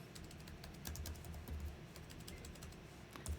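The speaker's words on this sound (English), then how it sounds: "If I could type." Steady run of typing on a computer keyboard, an email address and short message being entered, continuous close clicking keystrokes at low level with no voices.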